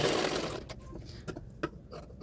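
Sewing machine stitching a Katori blouse in short bursts, a rapid mechanical whir that starts and stops, with a few clicks and scrapes between runs, close and fairly quiet.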